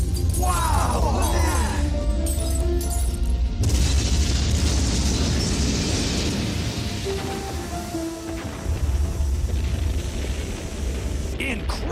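A cartoon fortress collapses and blows apart in a long, loud rumble of booms and crashing debris, with a few sharp cracks and surges. Shouting voices break in over the destruction now and then.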